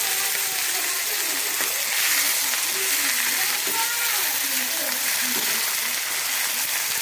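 Cauliflower and peas fry in a pan on a home stove with a steady, bright sizzle and crackle, while faint voices sound in the background.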